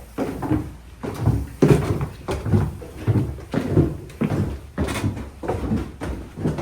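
A house's front door is handled, heard as a series of close, rhythmic knocks and thumps of opening and closing movement, with no talking.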